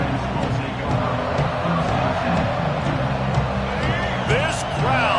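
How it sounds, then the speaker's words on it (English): Stadium crowd in a Madden football video game roaring steadily with dense babble and cheering, loud and continuous, with game sounds and a commentator's voice over it. "This crowd, full throat, spreading the eardrums"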